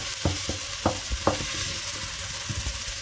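Butter and onions frying in a pan for a seafood chowder, a steady broadband sizzle with several short scraping stir strokes, close and fairly loud, no talk.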